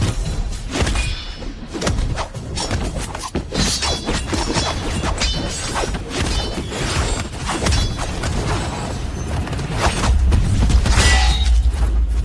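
A shattering impact effect in an animated fight against a demon lord, dense crashing and smashing bursts layered over booming thuds, loud and continuous throughout with no voices.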